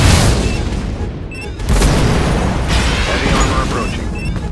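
A loud explosion from a surface-to-air missile in the combat video game Swordfish, a sharp blast followed by a second heavy boom and sustained rumbling, with game voice callouts mixed in.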